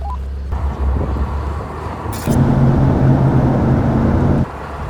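Recorded from inside a car, the road rumble and wind roar swell loudly for a couple of seconds as other cars overtake, then settle back to a steadier drive.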